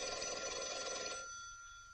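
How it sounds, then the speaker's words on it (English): An old-fashioned telephone bell rings in one bright, sustained burst that stops partway through and leaves a fading hum. "Your phone's ringing."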